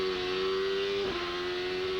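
A Cosworth-powered Champ Car race car at the Mont Tremblant Grand Prix, its engine holding a loud steady high-pitched drone that dips briefly in pitch midway, close by with no voices.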